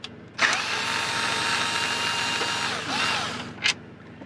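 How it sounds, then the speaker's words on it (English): A cordless screw gun with a T20 Torx bit backs screws out of a car dashboard: a sharp start, a long steady high whine of the motor, a brief surge, then a short final burst, close and loud. "I'm gonna use my screw gun to start taking the dash apart"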